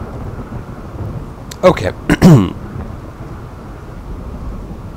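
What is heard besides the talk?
thunderstorm with rain in video game RimWorld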